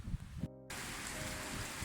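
Steady rain falls in Polynesia, a dense, even hiss that runs on without pause after a brief silent gap near the start, with no voices over it.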